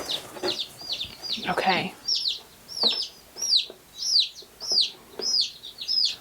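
Young chicks in a Wyoming chicken flock peep repeatedly, close and fairly loud, in a steady run of bright rising calls about twice a second. Early on a person speaks briefly over them.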